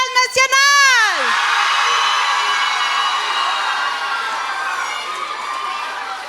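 A large crowd at a closing ceremony in Québec roars and cheers for a region, starting with sharp whoops and whistles and settling into a sustained loud wall of shouting and cheering.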